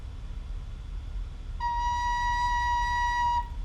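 A single clear recorder note B held steadily for about two seconds, pure and breathy, played alone.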